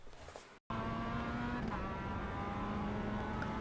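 Mazda MX-5 engine in iRacing held on steady throttle, a loud continuous sim-racing drone with a clear tonal line, briefly cutting out near the start before resuming at full volume.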